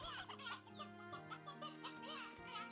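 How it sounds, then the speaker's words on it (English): Elder hen in the Slime Rancher 2 video game clucking in a steady run of short calls, mixed with game music and other chatter over a busy background. "Get in here, elder hen."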